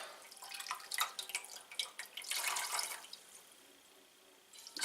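Wet spun yarn singles being fulled are lifted out of hot water and drip, giving a run of close, irregular splashes and trickles that fade toward the end.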